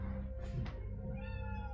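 A cat meows to be let through a door, giving a short chirp followed by a longer, rising meow, close and clear over a low background hum.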